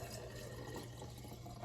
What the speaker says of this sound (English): I am just going to pour this straight into the jar.